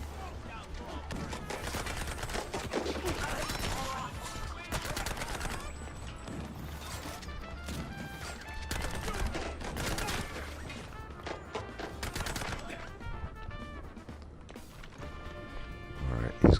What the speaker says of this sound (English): Get to the machine gun again.